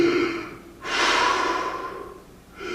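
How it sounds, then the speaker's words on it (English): Deep breathing, a long heavy inhale and slow exhale, close and loud, followed by the start of another breath, with no talk. "how about a little deep breathing?"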